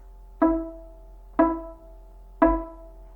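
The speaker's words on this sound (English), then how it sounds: "This is the E note, and it sounds like this." Three separate bowed violin E notes on the D string at a steady mid pitch, each one starting sharply and fading, evenly spaced about a second apart, played alone with no talking.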